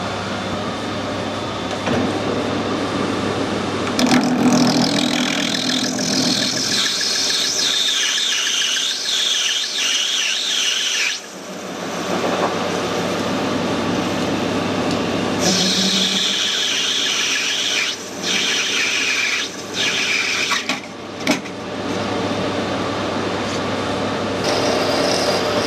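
Drilling into brass nuts during a weld repair on BSA engine cases, a sustained high whining cut that shifts in pitch, stops briefly mid-way and resumes, close and loud with no talk.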